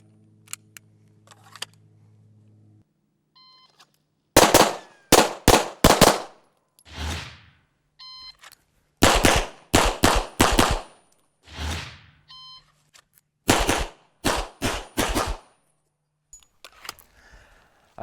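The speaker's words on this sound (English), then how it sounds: "off the start signal, you're going to draw and shoot 2 rounds on each target within the circles" A short electronic start beep, then a rapid series of loud, sharp handgun shots fired in quick pairs at targets during a timed draw-and-shoot drill, with brief gaps between strings.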